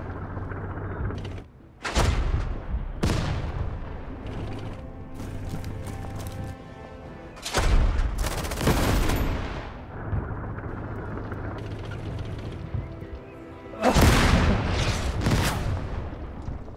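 Tank battle in the video game Total Tank Generals, Battle of Berlin: repeated loud cannon blasts and explosions in irregular bursts over a steady engine drone, with rattling gunfire between the heavy booms.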